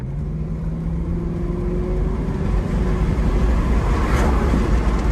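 A 1992 Lexus SC400 accelerates along a back road, its engine drone steady and building slightly in loudness, heard from inside the car with road noise and no talking.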